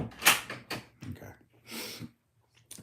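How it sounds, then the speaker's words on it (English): An interior door swung shut and latched with a click, a few short knocks and scrapes of the handle and frame, close by in a room, with a voice speaking around it. "Close the door, but make it click."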